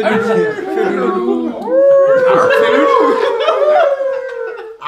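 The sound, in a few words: person imitating a wolf howl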